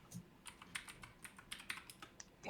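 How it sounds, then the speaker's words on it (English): Keys tapped on a computer keyboard in quick irregular bursts of clicks, close and fairly quiet, ending in a louder clatter. "Typing."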